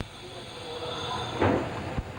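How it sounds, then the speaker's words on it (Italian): A crossing train pulls away from the third track toward Tarvisio on the Udine–Tarvisio railway line, a steady, moderately distant rolling rumble broken by a brief squeal and a couple of short metallic thumps. "Ed ecco il treno incrociante partire verso Tarvisio"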